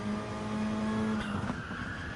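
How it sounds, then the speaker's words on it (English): Car tyres squealing while cornering in a GT3 racing video game, a sustained high whine over a steady engine drone, loud and close, with no talk. "I can hear the tyres squealing a little bit on turning there"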